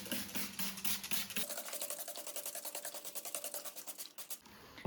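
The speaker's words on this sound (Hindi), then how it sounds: "तो अब हम इसके ऊपर दूसरी लेयर कर देते हैं ब्रश के साथ" A brush sweeping a second coat of gesso across a dampened, reused canvas, giving repeated dry rhythmic rasping strokes at close range with no talk.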